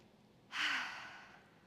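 A single long, audible exhale after a pilates circuit with weights, close and fairly loud, rising sharply and then fading out slowly against near silence.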